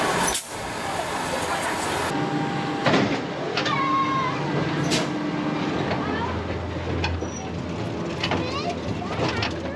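An amusement ride at Pleasurewood Hills runs with its kicker wheel missing and judders on the lift, giving a steady, loud rumbling clatter with scraping squeals and creaks throughout.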